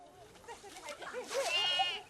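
A baby goat in a remote Nepali mountain village bleats in a few short, wavering cries, close and fairly soft.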